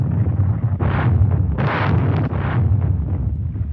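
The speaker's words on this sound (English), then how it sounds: "the mounting air bombardment was supplemented by strong naval fire against the beaches" Naval guns bombard invasion beaches in August 1944, sounding as heavy booming blasts and rumbling detonations layered over a constant low roar, with several bursts swelling in quick succession.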